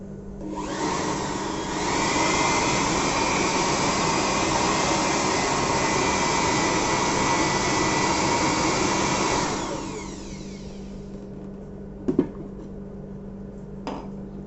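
A 650 watt electric air blower running in suction mode roars steadily at close range for about eight seconds, then cuts off and winds down, followed by a couple of soft handling clicks.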